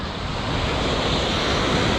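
Atlantic Ocean surf breaks on the coast at Rio de Janeiro, a steady, loud broadband wash of waves mixed with wind buffeting the microphone, with no voices.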